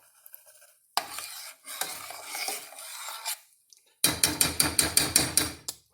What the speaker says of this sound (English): I'm just going to stir this in until the peanut butter is pretty much liquefied and mixed in with the fat